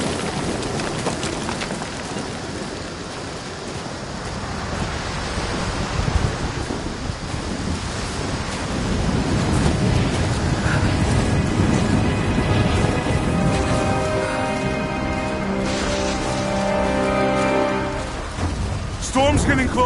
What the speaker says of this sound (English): Storm's getting closer.